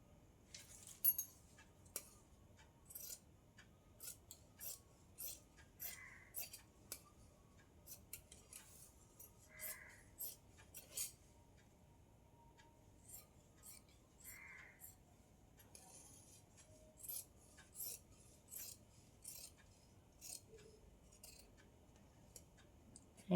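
Scissors cutting blouse fabric: a long run of crisp, close snips, irregular but frequent, each a short bright crunch, with quiet pauses between bursts.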